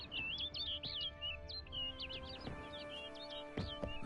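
Small bird in The Witcher 3: Wild Hunt chirping in quick bright trills and tweets that run through the whole clip, close and clear over a low ambient hum and a few soft thuds.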